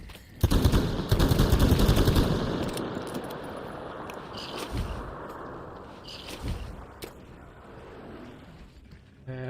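Gunfire in Metro Exodus on PS5: a dense burst of rapid automatic fire up close, then a few scattered single shots trailing off into quieter rumbling.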